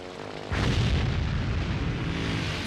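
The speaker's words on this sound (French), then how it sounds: "Bon feu d'artifice, Limburger!" A cartoon explosion erupts into a loud, sustained booming roar like a burst of fireworks, starting suddenly and rumbling on with crackling under it, with no voices.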